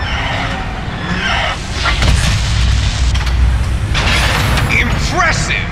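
Explosions and mechanical clanking ring out as the radome is destroyed during the Metal Gear REX fight in Metal Gear Solid on PlayStation, with booming bursts and metallic crunches layered over a steady, dense game soundscape.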